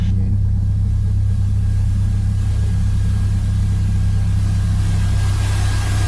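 The engine of a Cessna Skyhawk small plane taxiing to the runway drones steadily at close range, a loud continuous low rumble with a broad hiss of cabin noise layered on top.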